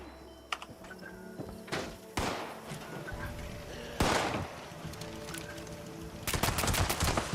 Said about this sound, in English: Stop shooting my camp, dude.